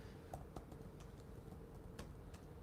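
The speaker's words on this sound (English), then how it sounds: "Sorry, I'm just typing furiously." Quick, uneven clicks and taps of a computer keyboard being typed on furiously, faint and close-up against a quiet room hiss.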